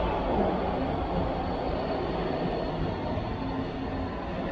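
A São Paulo metro train on Line 3 rumbles steadily, a low, continuous rolling roar filling the space with no voices.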